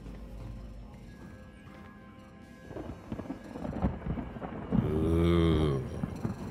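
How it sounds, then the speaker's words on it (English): In Star Citizen, space lightning sets off rolling, rumbling thunder that builds over a few seconds into a loud, swelling crackle, mixed with a wavering tonal hum and layered over low ambient drones. "Lightning in space."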